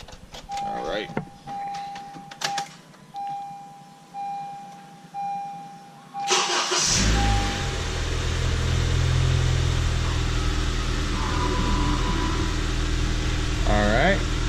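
A Honda Civic Si engine cranks and catches, then settles into a steady, loud idle with a constant drone, after a few quieter beeps and clicks.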